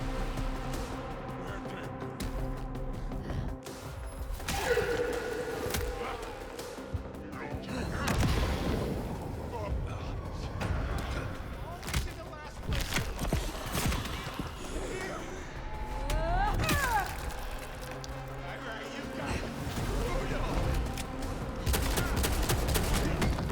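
A big gun fires in Vampire: The Masquerade Bloodlines 2, heavy booming shots and bursts repeating across a busy game soundscape, with a voice talking over much of it.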